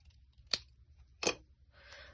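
Scissors trimming a cover for a craft project, two sharp, close snips about three-quarters of a second apart in a quiet room, followed by a soft rustle.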